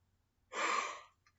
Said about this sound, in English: they try to force me to yawn, like they trying to make me do now